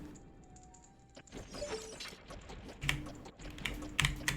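Computer keyboard keys tapped during a game of Ocarina of Time: scattered clicks and sharper clacks building toward the end, over quiet game sounds, with no talk.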